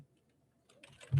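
A command is typed at a computer keyboard: a few soft, quiet keystrokes, then a brief burst of clicks that ends in a louder thump from a key press, likely Enter.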